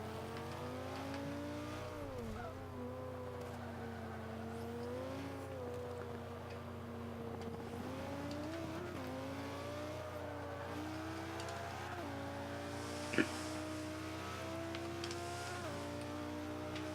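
Race cars in the video game Forza 5: a steady, faint engine drone with wavering, gear-shifting revs throughout and one brief sharp click near the end, no talking.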